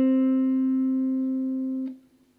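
A single sustained guitar note, C at the 5th fret, rings clear and steady for about two seconds before being cut short, leaving a faint decay.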